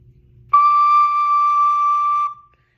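A recorder sounds the note D with the back thumb hole uncovered, one steady clear held tone lasting about two seconds, close and alone.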